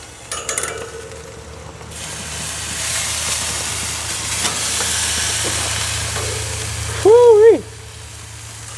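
Rabbit meat sizzling steadily on a grill as it is flipped, a broad hiss and crackle running throughout, with a short sharp scrape or clatter near the start and a brief tonal whoop-like sound near the end.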